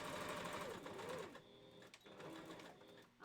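A sewing machine stitches a seam in a wolf partial costume head, running steadily and fairly loud at first, then continuing more unevenly with brief pauses and faint background noise.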